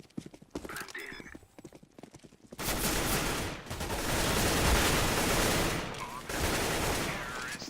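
Rapid gunfire bursts in a competitive tactical shooter match, loud and sustained after a quieter opening, with sharp volleys overlapping and a brief lull before another burst.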